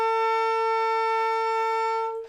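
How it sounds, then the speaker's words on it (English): A single sustained high F sharp on an alto saxophone, steady and clear with rich overtones, held for about two seconds before cutting off. "High F sharp sounds like this."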